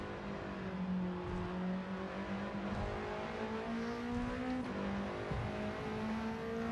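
Alpine A110 race car engine in Gran Turismo 7 on the Tokyo Expressway, a steady sustained drone holding revs with a gear change partway through, loud and continuous with no talk.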